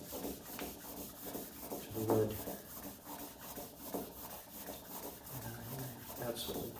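Hand sanding by block on the wooden side of an old Steinway piano case, repeated soft rasping strokes in a steady rhythm, close and quiet, with a few faint knocks and no clear speech.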